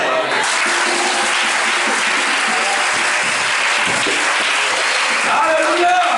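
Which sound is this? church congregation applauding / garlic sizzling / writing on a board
church congregation applauding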